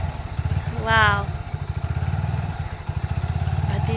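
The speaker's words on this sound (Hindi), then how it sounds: "हस्बैंड जी कर रहे हैं बाइक स्टार्ट" A motorcycle engine chugs at idle with a fast, steady putter close by, and a brief rising whine comes early, while someone exclaims over it.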